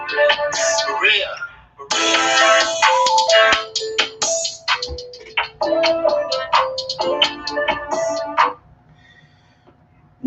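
Phone notification tones chime in quick succession, loud and close, with bright electronic melodic beeps stacking for several seconds before dropping to near silence.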